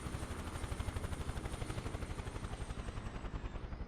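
A flying camera drone gives off a loud, continuous rotor throb that pulses rapidly and evenly at close range, with no speech.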